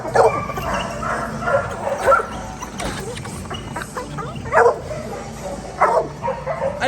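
Sif, a reactive dog, lets out several short barks and yips in bursts spread across the stretch, fairly close, with a few whimpery notes between them and low background noise.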